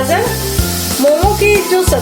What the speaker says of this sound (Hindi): मैं हल्का सा इसे सौते कर रही हूँ